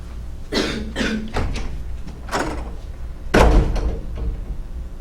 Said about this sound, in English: Can we open the door?